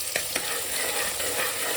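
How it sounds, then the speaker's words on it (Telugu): Thinly sliced onion stirs in hot oil with a steady, close sizzle. A couple of sharp scraping clicks sound near the start, and there is no talk. "ఒక ఉల్లిగడ్డ సన్నగా కలుపుకొని ఆయిల్ వేసుకున్నాం"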